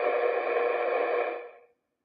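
Faint AM broadcast on 530 on the medium-wave band. A steady hissy, tonal radio signal holds for over a second, then fades out into silence.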